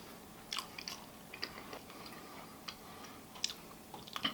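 A small piece of homemade baklava with lemon is bitten and chewed during a taste test, giving soft, irregular crunchy clicks and mouth sounds close up and quiet, with no talking.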